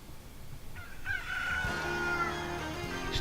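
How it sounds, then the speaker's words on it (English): A chicken from Zelda, heard inside the Mario Kart 8 video game, gives a short, bright crowing cluck over steady game music. "Just a chicken from Zelda"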